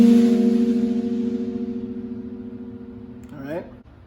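A single plucked guitar note rings and slowly decays, then the first finger slides up to the third fret near the end, bending the pitch, played alone.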